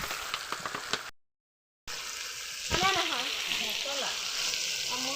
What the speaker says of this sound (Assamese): এয়া মাংস লৰাই দিছে বাই